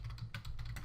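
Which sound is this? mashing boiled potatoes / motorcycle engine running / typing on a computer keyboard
typing on a computer keyboard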